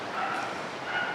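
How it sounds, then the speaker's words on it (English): Neighborhood dogs bark and yip in the distance, a muffled, fairly faint run of barking heard indoors. "The dogs in the neighborhood won't stop barking"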